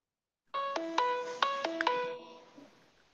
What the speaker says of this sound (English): He had a phone call come in.